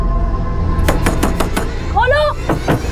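Knocking on the front door of a family home as police arrive in a crime drama: a quick run of five sharp, distinct raps, followed by a person speaking nearby.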